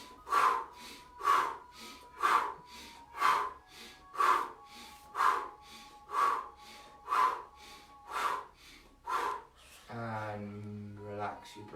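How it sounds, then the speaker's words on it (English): A run of about ten quick, rhythmic nasal breaths of a fast abdominal breathing exercise, each a sharp sniff-like puff evenly spaced, close and clear, followed by a brief voiced sound at the end. "we're going to do in 1, 2, 3 fast breathing"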